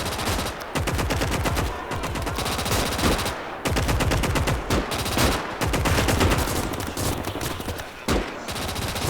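Relentless World War II gunfire from the Gates of Hell German campaign: rapid machine-gun bursts and rifle shots crackle densely, loud and close, with only brief gaps between volleys.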